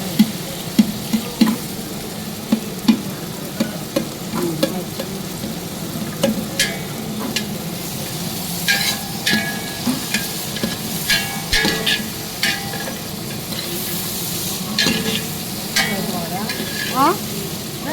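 Onions frying in a pan while being stirred, with steady close sizzling under repeated scraping and clicking of a spoon against the pan.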